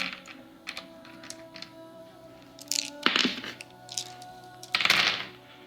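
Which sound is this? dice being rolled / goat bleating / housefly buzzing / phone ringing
dice being rolled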